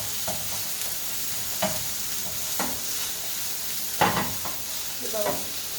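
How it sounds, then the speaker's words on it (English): Pimento seeds being stirred and dry-sautéed in a pot with no oil, a few scraping stir strokes at irregular intervals over a soft steady sizzle, close and fairly quiet. "We're gonna put these in the pot, being pot. No oil is needed, no oil necessary. Kind of saute it a bit."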